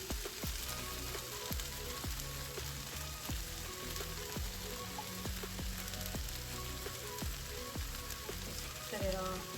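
Nopal cactus fries in a pan with egg and queso fresco for breakfast, giving a loud, continuous sizzle and crackle close up. Faint musical tones play along underneath.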